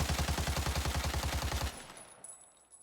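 A rapid automatic burst of gunfire from a weapon in the video game Arena Breakout, about a dozen evenly spaced loud shots lasting over a second and a half, then fading to quiet.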